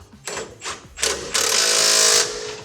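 A bolt on a kart's rear axle suspension is driven tight with a power tool: three short whirring bursts, then one longer sustained buzzing run before it cuts off, loud and close.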